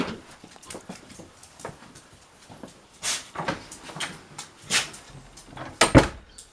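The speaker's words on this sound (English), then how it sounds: "Close the inner doors because it just keeps the cottage nice and warm." Inner doors of a cottage being shut, with several soft knocks and clunks followed by louder bangs near the end, spaced irregularly over quiet indoor shuffling.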